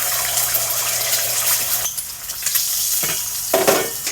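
An egg sizzles loudly in hot oil in a salted frying pan, a steady close crackle and hiss that swells and drops in bursts.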